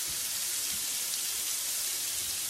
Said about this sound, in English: Go ahead and get these veggies sweating a bit.